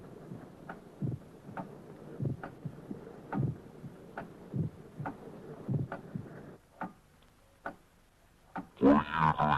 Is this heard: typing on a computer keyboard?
no